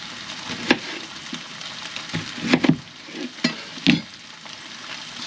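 Food sizzling in a frying pan at a camper van's cooking spot, a constant crackling hiss broken by several sharp clinks and scrapes of utensil against the pan, near and loud, with no talk.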